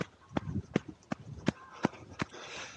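Feet stomp on the ground in an even running cadence, about six sharp, evenly spaced thuds nearby, with faint breathing or voice between the beats.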